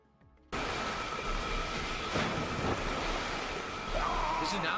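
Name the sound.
water in a video game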